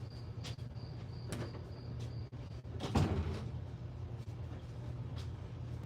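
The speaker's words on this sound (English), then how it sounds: "I'm gonna close this door so I don't lose my mind." A door slides or swings shut with a couple of knocks and one firmer thud near the middle, over a steady low room hum and a faint high cricket-like tone.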